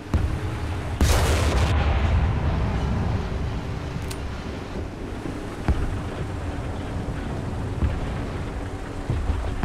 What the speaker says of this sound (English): can we just load up HE and shoot the Reichstag for a bit